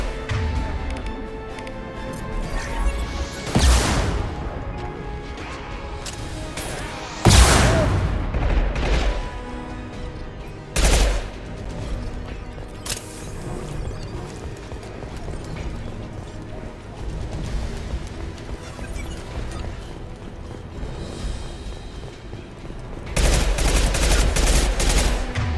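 Gunfire in Mass Effect: Legendary Edition, a continuous firefight with sharp loud bursts and booms at irregular intervals over a steady mechanical din.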